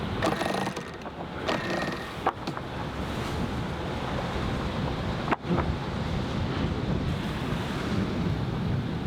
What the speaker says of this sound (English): technically we're motor sailing